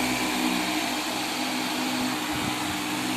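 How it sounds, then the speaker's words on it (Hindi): A homemade misting cooling fan runs with its water spray pump switched on, giving a steady, droning mechanical hum with a constant tone and a faint buzz underneath. "ये मैंने पंप को ऑन कर दिया। मैंने पंप हमारा चल रहा है।"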